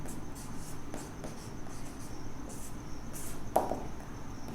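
A pen writing a definition by hand on paper, soft continuous scratching strokes close to the microphone, with a brief sharper tap near the end, quiet with no talking.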